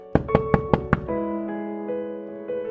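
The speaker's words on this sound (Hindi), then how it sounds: "रात में महिला आश्रय में मदद पाने के लिए दरवाजा खटखटाती है।" Five quick loud knocks on a door at a women's shelter at night, followed by a sustained tonal musical drone.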